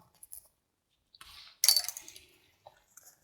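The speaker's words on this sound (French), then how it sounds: "Ensuite, on va ouvrir ce pochon-là" Opening a small pouch of vintage jewelry brooches: a soft rustle of fabric, then a cluster of bright metallic clinks and jingles as the pieces shift, followed by a few faint taps in an otherwise quiet room.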